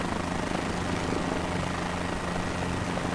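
A helicopter engine and rotor in a video game drone steadily with a constant low throbbing hum, close and loud throughout, with no voices.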